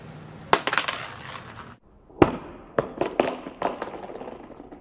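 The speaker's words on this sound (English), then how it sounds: "iPhone 6 Plus side drop test" An iPhone 6 Plus dropped on its side strikes the ground with a sharp clattering crack, then after a short silence lands again with a hard knock followed by several quick rattling bounces, close and alone.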